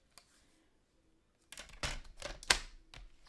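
Cardstock being cut into strips for a 3D panoramic tower fun fold card, with a few crisp, close snipping and sliding cuts after a quiet start.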